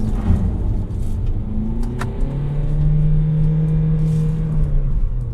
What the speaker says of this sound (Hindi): Let's launch this car.